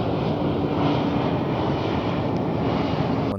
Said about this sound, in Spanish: hay días que tienes el avión todo el día encima de la casa